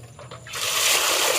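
Water pours over a lotus tuber in a container, starting as a light trickle and then building into a steady, close gushing splash, with no talking.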